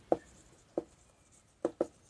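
Chalk taps and short strokes on a board during a maths lesson, four brief distinct knocks, two spaced apart then a quick pair, fairly close over a quiet room.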